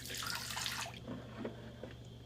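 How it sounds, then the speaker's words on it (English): Water pours from a Vibofrost frozen drink machine in a brief, soft splashing stream that trails off after about a second, followed by faint drips and quiet background hum. "I'm supposed to slowly dispense the water out."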